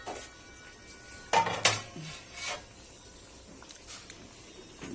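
A lid clanking onto a pot of shrimp sinigang with kangkong and string beans, a couple of close metallic knocks and a brief rattle over a quiet, faintly sizzling kitchen background.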